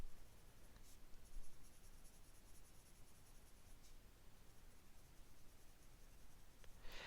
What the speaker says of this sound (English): So just a light dusting of graphite. You can see I'm just using a number 2 pencil.